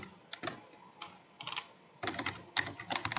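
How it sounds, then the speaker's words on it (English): Typing on a computer keyboard while entering device details for a Cisco Meraki Dashboard API call. Close, crisp key clicks come in short irregular bursts with brief pauses, and no talking. "here we have to type devices"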